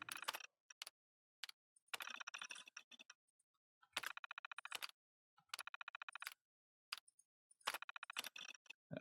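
Terminal typing in the video game Fallout 4: bursts of rapid, crisp electronic key clicks in several short clusters separated by pauses, with a few isolated ticks between them and no talking.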